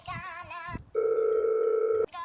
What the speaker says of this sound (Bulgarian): чакай, че ми звъни телефона, ма